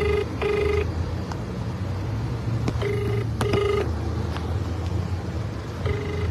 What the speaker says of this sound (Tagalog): Tinatawagan ko yung mayor.